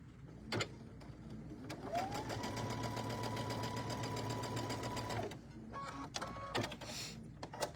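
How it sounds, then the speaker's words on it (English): Sewing machine stitching a tabletop banner from the center out, one steady run of rapid rhythmic needle clatter lasting a few seconds, followed by scattered clicks and handling noises, close but fairly quiet. "it's going to get stitched the same way we did this last unit"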